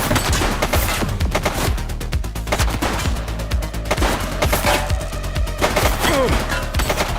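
Rapid gunfire in the police game The Precinct, with dense bursts of shots, cracks and impacts crowding together loudly in a chaotic exchange without pause.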